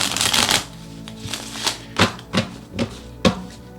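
Tarot cards shuffled for a weekly Virgo horoscope reading: a riffling burst at first, then a string of separate soft slaps and taps as cards are handled, close and clear with no talking.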